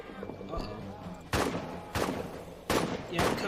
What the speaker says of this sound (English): That explosion was very close to me